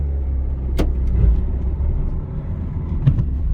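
A car engine rumbles steadily nearby as the vehicle pulls away along a roadside in the countryside, with a couple of brief clicks or knocks over the low drone.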